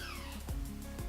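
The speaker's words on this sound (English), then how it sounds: "I have a kitten, a very cute kitten that's feeling kind of feisty this morning" A feisty kitten gives two short, rising meows about half a second apart, close and fairly loud, over a steady low background hum.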